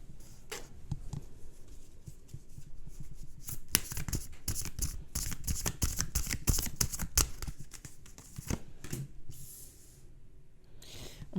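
Tarot cards being shuffled before a reading, a steady run of soft papery riffles and flicks with sharper snaps throughout, close and fairly quiet with no talking.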